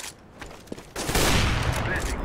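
Rapid automatic gunfire from an Overwatch match, starting faintly with scattered shots and then swelling into a loud, sustained burst of fire for the second half, with game effects layered underneath.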